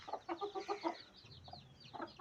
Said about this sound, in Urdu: یہ مرغا کھڑا ہے اس کے ساتھ کا